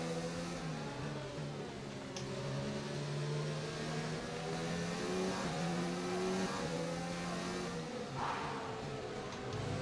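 An F1 race car overtakes at the Hungaroring in the F1 2019 video game, its high engine note whining steadily and shifting pitch as it revs through gears. The drone is continuous for the whole stretch, with no talk over it.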